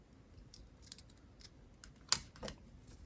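A single sharp snip of wire cutters trimming excess beading wire on an amethyst toggle necklace, close and crisp, with a few faint small clicks of tools and beads around it.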